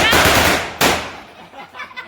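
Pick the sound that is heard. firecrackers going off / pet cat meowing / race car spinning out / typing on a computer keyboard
firecrackers going off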